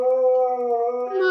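A Malamute dog howls in one long, clear, sustained tone that bends slightly, then lifts higher and wavers near the end, sounding close and loud with no other noise.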